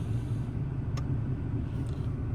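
Low, steady engine and road rumble from a VW Beetle with an 01M automatic transmission on a test drive, heard from inside the car at moderate level with a brief faint click; no talking.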